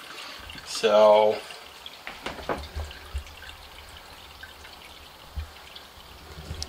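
Water runs and splashes while dirty hats are rinsed, a short burst of pouring followed by scattered trickles and drips, with a brief spoken word near the start.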